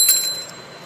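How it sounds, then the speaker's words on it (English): A small altar bell gives a single bright, close ring that fades away within a second, with no voices. "Here for air I have a big feather and my little bell"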